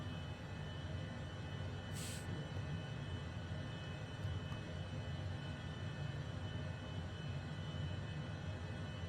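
HondaJet HA240 taxiing in Microsoft Flight Simulator 2020, a steady jet engine whine and low rumble held constant throughout, with a brief click near the start.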